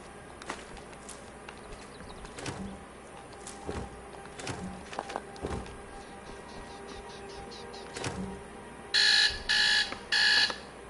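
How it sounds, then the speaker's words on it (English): A game-session alarm clock going off at 8:10, three short bursts of shrill, bright beeping near the end, heard above a steady low background hum and scattered clicks. "I guess I had an alarm set for 8:10 today."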